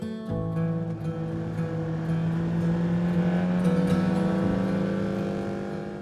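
A car driving north on a road in Newfoundland toward Stephenville, a steady low engine and road hum holding evenly throughout with no voices.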